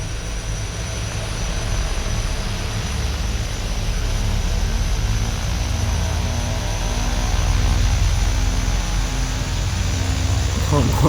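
Steady turboprop drone of a Carenado B200 King Air's engines at low idle in X-Plane 11, a continuous even hum with a high whine, loud and unbroken throughout, no talking.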